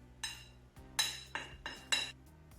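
Utensils knocking and scraping against a bowl while mixing sugar and flour for madeleine batter, five or six distinct clinking strokes, close and moderately loud, with no talking.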